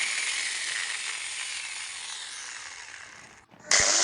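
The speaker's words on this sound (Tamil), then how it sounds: "நம்ம ஒரு 4 இன்ச்சு கட்டிங் பிளேடு ஒன்று போட்டேங்க. போட்டு ஸ்டீல் கட் பண்ணி பார்ப்போம்" A restored cutting machine fitted with a 4-inch blade bites into a steel TMT rod, giving a loud, steady high grinding screech for several seconds before it stops briefly and then starts up again.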